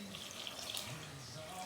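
Two cups of water poured from a cup into a bowl of flour for homemade playdough, a steady splashing rush that lasts the whole moment at moderate volume, with no talking.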